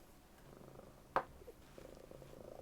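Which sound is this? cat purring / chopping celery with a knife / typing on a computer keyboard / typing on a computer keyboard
cat purring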